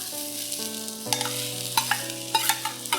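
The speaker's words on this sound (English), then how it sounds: "Then, add in the garlic." Garlic sizzling in hot oil in a wok for Chinese stir-fried mussels, a steady frying hiss broken by several sharp clinks and scrapes of a spatula, close and fairly quiet, with no talking.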